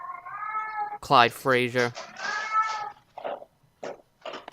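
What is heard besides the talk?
cat meowing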